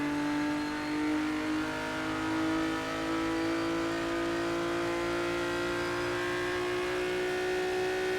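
Ferrari Dino race car engine in Test Drive: Ferrari Racing Legends, a steady high-revving whine held at constant pitch, loud and continuous with no voices.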